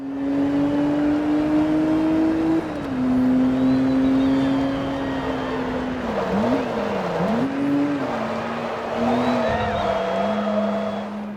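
Race cars in Forza Motorsport 2 roar loudly with engine pitch rising and dropping through gear changes, tires squealing in spots, and a voice talking over the top.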